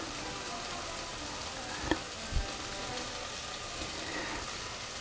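Chicken liver rolled in breadcrumbs fries in a pan for a Persian dish, with a steady soft sizzle and a couple of brief pops or taps partway through.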